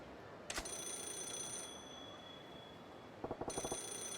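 A telephone ringing inside a phone booth in the video game Yakuza 0: two bursts of bright electronic ringing, one near the start and one near the end, over a quiet hum and a steady high tone, with no voices.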